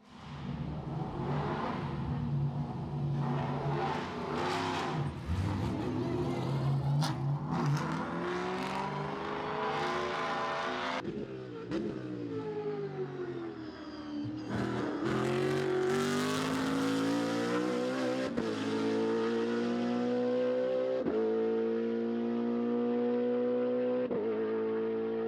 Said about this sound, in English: It sounds a bit like an American car, isn't it?